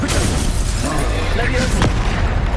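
A Confringo blasting spell detonates in Hogwarts Legacy, a booming burst with a sharp crack near the end, heard over steady game noise and a voice in the background.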